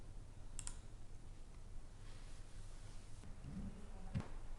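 Mouse clicks during a software installation on a computer come as a few sharp, isolated clicks spread across a quiet room-tone background.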